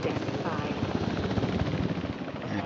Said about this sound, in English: Please report for dig site selection as the helicopter is standing by.